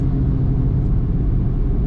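Steady engine drone inside the cabin of a Fiat Argo Drive 1.0 car at about 3,500 rpm on the road, a loud, constant low rumble with no talk.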